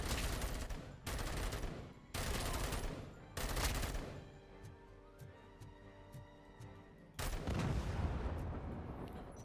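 Bursts of automatic gunfire from a high-recoil gun in a RoboCop (Alex Murphy) police shooter game, four loud sustained volleys separated by short pauses with game music between them.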